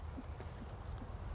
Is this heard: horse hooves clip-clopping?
yes